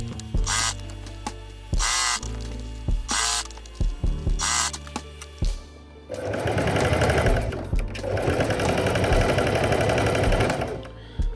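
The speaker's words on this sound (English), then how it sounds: "So you've sewn this all around the balaclava just like that" Close home sewing machine stitching a balaclava: short stop-start bursts of rapid needle chatter with clicks between, then a long continuous run of fast mechanical rattling.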